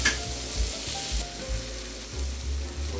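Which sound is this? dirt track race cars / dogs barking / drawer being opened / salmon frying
salmon frying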